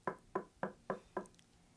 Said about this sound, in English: there was the knock